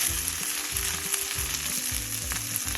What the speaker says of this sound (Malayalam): 4 പച്ചമുളകും ചേർക്കാം. അത് ഇതിലൊന്ന് മൂപ്പിക്കാം.